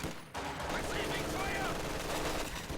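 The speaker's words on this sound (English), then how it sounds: "it'll be very easy for Paul to force retreats with that machine gun" Machine gun fire in a video game battle, a dense continuous rattle of shots packed together across the clip amid steady battle noise, with a voice talking over it.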